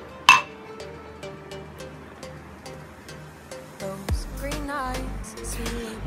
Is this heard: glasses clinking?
yes